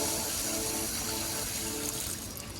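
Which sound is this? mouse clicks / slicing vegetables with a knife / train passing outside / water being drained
water being drained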